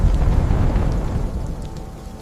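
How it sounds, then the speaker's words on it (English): Thunder in a stormy sky, a loud, deep, continuous rumble that rolls on and slowly fades over a couple of seconds. "Dark magic spread across the stormy sky."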